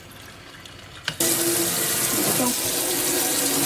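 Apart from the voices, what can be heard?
water running from a kitchen tap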